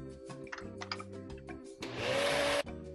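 Blender whirring through hummus ingredients with cayenne, a loud steady grinding roar that rises from about two seconds and cuts off abruptly, preceded by kitchen clatter and low background noise.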